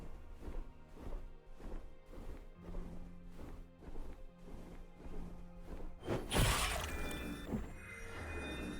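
Smash attack impacts in the tactical roguelike Inkbound: a steady run of dull rhythmic thumps, then a loud shattering crash with a bright burst of debris and a lingering ring.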